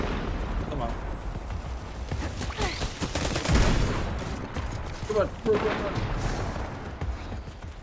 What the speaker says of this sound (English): The sunshot is a nice, you know, it's nice because that explosion damage is a lot of extra damage